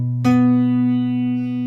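Guitar octave shape played with the A string muted by the first finger, a single struck chord ringing out clearly and sustaining for over a second.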